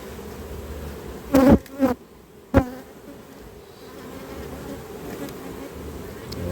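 Honeybees hum steadily inside an open hive, the low drone running throughout, with a few louder bursts of handling knocks and crackles early on from frames being moved.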